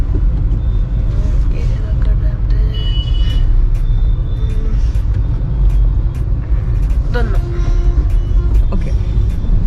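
Car driving on a road heard from inside the cabin, a constant low rumble with road noise and occasional clicks and knocks, people talking over it.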